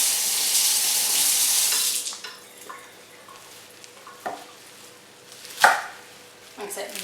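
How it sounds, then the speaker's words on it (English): Rough chopping of soup ingredients with a knife for a sausage ravioli and kale soup: a broad rush like running water fills the first two seconds, then scattered sharp knife strikes on a board, one louder near the end. "just a rough chop is fine"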